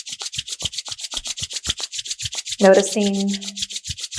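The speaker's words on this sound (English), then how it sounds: "hearing the sound that your palms make" Palms rub together in a steady back-and-forth rhythm, a close, dry swishing repeated about a dozen times, briefly interrupted by a single spoken word partway through.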